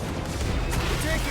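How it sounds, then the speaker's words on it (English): Gunfire during a battle in Marvel's Guardians of the Galaxy video game, a dense, continuous roar of shots and blasts filling the whole moment with steady loudness, with game voices mixed in. "We're taking fire."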